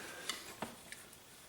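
A painting knife drags over wet oil paint on a landscape canvas, softening hard edges: three or four short, close scraping strokes in a quiet room.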